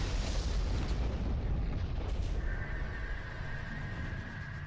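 The NTC Cato, a ship in the space game Freespace 2, is destroyed in a heavy, rumbling explosion that starts loud and close, then fades into a long, roaring decay with a thin whine lingering underneath.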